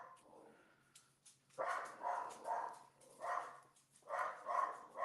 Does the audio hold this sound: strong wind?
no